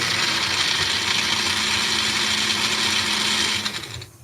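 A small blender whirs loudly and steadily as it chops habanero peppers, a continuous buzzing motor drone close up that cuts off and winds down at the end.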